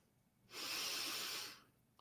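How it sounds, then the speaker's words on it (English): A single deep breath drawn in close to the microphone, a soft airy rush lasting about a second, alone in a quiet room. "Just take a breath."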